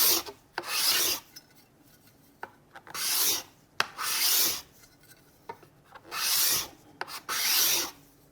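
Hand scraper shaving wood, six or so rhythmic rasping strokes about a second each with short pauses between, close and clear, no talk.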